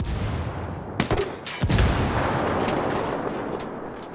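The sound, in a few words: grenades and belt-fed machine gun fire in Ghost Recon Wildlands video game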